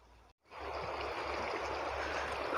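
The Sarsala river stream flowing along its bank, a steady broadband rush of water that fades in after a brief dropout and then holds constant and moderately close.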